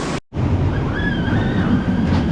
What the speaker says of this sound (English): I love like the sound of like falling water and whatnot.